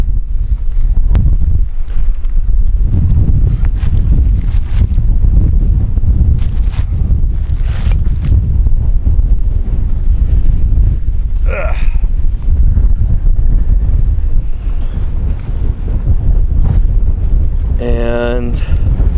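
Wind gusting steadily across a microphone at an outdoor dinosaur dig site in Wyoming, a loud continuous rumble and buffeting throughout, with brief scraping clatter near the end.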